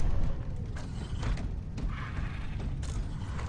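A heavy door locking mechanism in Space Hulk: Deathwing, a series of creaking, grinding mechanical clunks and ratcheting scrapes over a low rumble, fairly close, with no talking.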